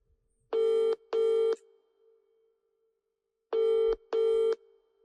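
A telephone ringback tone while calling someone: two pairs of steady electronic double rings separated by a pause of silence, clear and fairly loud, with no voices.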